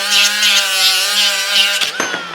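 An angle grinder cuts steel on a sand rail repair, a loud, steady high-pitched whine with grinding rasp running for about two seconds before breaking into scraping bursts as the cut ends.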